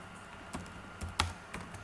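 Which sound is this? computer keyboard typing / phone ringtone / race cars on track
computer keyboard typing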